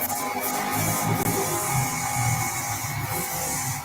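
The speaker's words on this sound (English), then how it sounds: "Someone drilling." A drill grinds in continuous rasping, scraping bursts with steady high-pitched tonal whine, heard close and alone for a few seconds.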